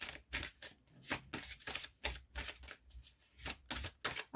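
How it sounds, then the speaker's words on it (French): Oracle cards bearing angel messages are shuffled and drawn by hand, a quick run of crisp papery riffles and slaps that come in close, repeated bursts with no speech. "On va aller tirer une petite carte des messages de vos anges."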